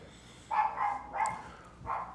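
Several sharp dog barks in quick succession, fairly close and moderately loud, spaced irregularly with brief gaps between them.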